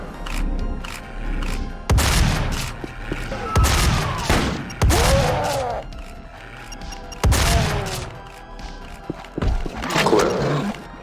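Shotgun blasts from the video game Doom fire several times in sequence, each loud broadband burst followed by a decay, with monster roars and game effects mixed between the shots.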